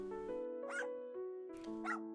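A small dog in the video game Princess of Worlds End gives two short, clear barks, close and alone over soft steady background music.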